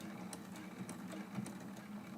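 A sewing machine runs back stitches on quilt binding, a faint quick mechanical whir with light rhythmic ticking over a low steady hum, close and without talk.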